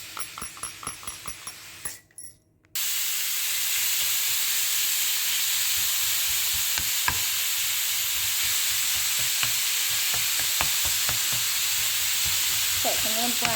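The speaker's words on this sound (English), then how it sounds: "I'm going to brown off my mince" Mince browning in a pan, a loud continuous sizzle and hiss after the meat hits the heat, with occasional clicks and scrapes of stirring; brief clinks and rustling come just before.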